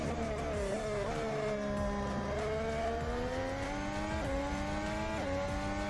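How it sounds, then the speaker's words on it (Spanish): A Formula 1 car braking hard from about 335 to 95 km/h into the banked turn 12 at Austin, its loud, steady engine whine dropping in pitch through several quick downshifts over six seconds. "mirá este frenaje de 335 a 95 que va a bajar acá para hacer la curva 12"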